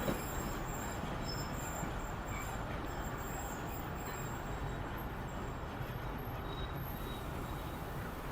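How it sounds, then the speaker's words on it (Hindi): The Awam Express passenger train rolls along toward a stop in Pakistan, a continuous broadband rumble and rattle of wheels on track heard from inside the carriage, steady and fairly loud for the whole stretch. "तो ये देखें यहाँ पे ट्रेन जो है ना रुक रही है"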